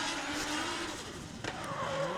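A pro drift car at a professional drifting qualifying run, its tires squealing in drawn-out wavering screeches over the engine roar as it sweeps past, fairly close and loud.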